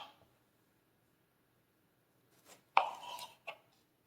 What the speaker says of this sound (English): 1 tomato. Slice into bite-sized pieces.